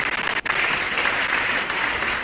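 Loud hand clapping from a crowd forms a dense, steady wash of applause, close and continuous after a brief dip at the start.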